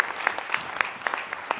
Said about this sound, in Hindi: एक ताली हो जानी चाहिए